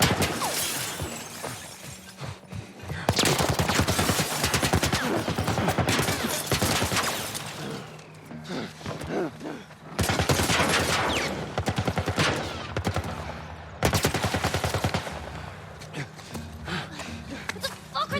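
A military turret fires in The Last of Us remake: rapid gunfire bursts, repeated and loud, broken by short pauses, with crashing impacts and a voice speaking over it.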